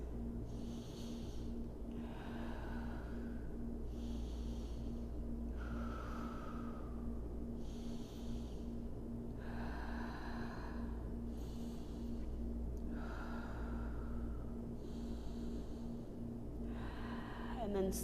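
Slow, steady breathing held through a seated figure 4 yoga pose, about five or six long audible breaths evenly spaced, with a quiet low hum of background music underneath.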